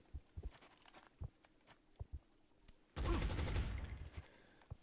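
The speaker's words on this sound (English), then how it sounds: "I can jump there and shoot him" Gunfire in XCOM Long War Rebalanced: sharp single shots crack out at uneven intervals, then a loud, dense burst of sustained fire erupts and carries through to the end.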